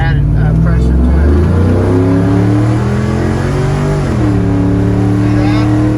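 A car with a 4L60E automatic transmission accelerates hard on a road test drive, its engine note climbing steadily and dropping at an upshift, loud and close from inside the cabin while someone talks over it.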